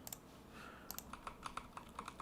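Keystrokes on a mechanical keyboard fitted with red switches, quiet and close, with a few quick taps followed by a steady run of evenly spaced presses.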